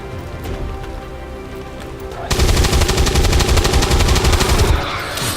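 Sustained machine gun fire in the XCOM 2 video game, a loud, rapid rattling burst lasting a few seconds after a quieter stretch of game ambience.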